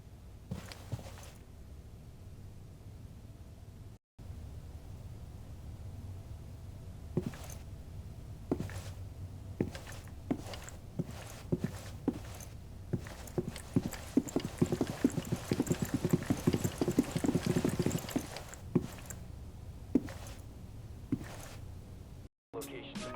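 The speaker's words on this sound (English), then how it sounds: "it sounds like there's almost footsteps added just from looking around" Footsteps in Rainbow Six Siege, heard while the player looks around, come as a string of quick, sharp, close steps that grow busier midway, with someone talking over them.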